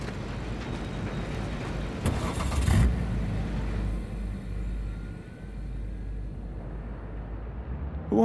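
A car driving in Cyberpunk 2077, engine revving and accelerating steadily at close range with a loud surge midway, then settling into a smoother cruising hum.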